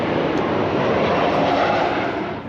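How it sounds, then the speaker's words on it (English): An airplane passes overhead, its loud, steady engine roar filling the clip with broadband rumble and swelling slightly before easing at the end. "the airplane's coming by, so that's going to be loud"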